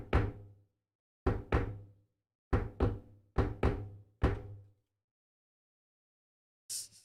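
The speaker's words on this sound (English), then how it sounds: "A knock on the door." Five knock bursts of two or three quick raps each on a door, sharp and resonant in a quiet room, spaced about a second apart, followed by a short faint hiss at the end.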